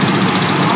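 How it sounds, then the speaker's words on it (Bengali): Motor-driven paddy threshing machine running in a rural Bangladeshi rice harvest, a loud, steady mechanical drone heard close up with no break. "বাজারে এসেছে বিভিন্ন ধরনের থ্রেসার ও মোটর চালিত ঝাড়াই বাছাই মেশিন"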